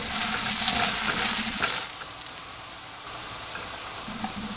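Food being stir-fried in a pan on a medium flame makes a dense, continuous sizzle, louder and busier at first, then settling into a steadier, slightly softer frying hiss.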